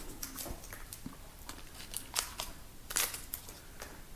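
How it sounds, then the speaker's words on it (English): Tape is peeled and pulled off a pair of Warne scope rings in short crackly tears and snips, close up and fairly quiet, with small crinkling sounds between pulls. "So I can remove the tape,"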